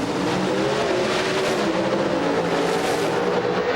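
NHRA drag racing cars roaring down the track at the 1994 Champion Auto Stores Nationals, a loud, steady engine blast that holds without a break.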